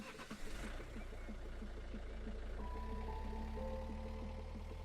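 A truck engine in the Outerra game idles and runs with a steady low rumble, faint and distant, joined partway through by tonal electronic beeps.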